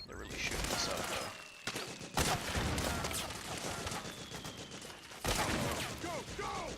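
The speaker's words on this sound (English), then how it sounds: "They're really shooting us up" Dense rapid gunfire in the battlefield shooter Metal Gear Solid 4: Guns of the Patriots, a near, steady barrage of overlapping shots with a few sharper bursts, mixed with shouted voices and game chatter.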